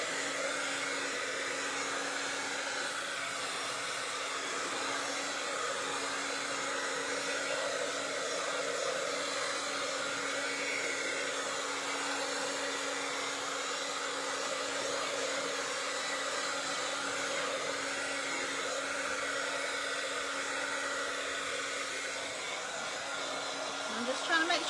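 A hair dryer runs steadily at close range for the whole stretch, drying freshly applied paint, its even motor whine and airy rush holding a constant level with no pauses.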